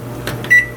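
A microwave oven heating almond milk in a mug, a brief mechanical clunk and whir followed by a short electronic beep, close and fairly loud.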